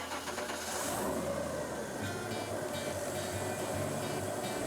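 Steady loud drone of an airboat engine and fan running continuously on Florida waters, a broad roaring hum with no pauses.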